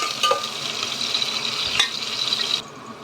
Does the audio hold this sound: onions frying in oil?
yes